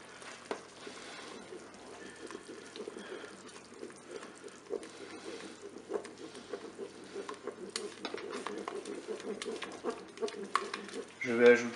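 Steady stirring of a mustard and crème fraîche sauce for whole chicken in a Cookeo pot, a faint scraping swish that runs continuously with a brief clink at the end.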